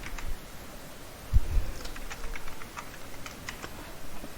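Computer keyboard keys tapped in quick, irregular bursts while writing JavaScript code for a spinning wheel project, with soft close clicks over a quiet background hiss.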